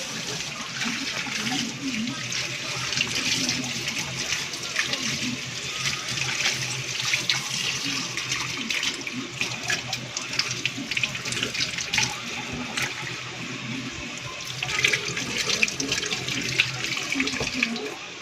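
Tap water runs steadily into a kitchen sink while onion leaves are rinsed under it. The hiss is continuous and close, with small splashy changes as the leaves are handled, and a voice speaks now and then underneath.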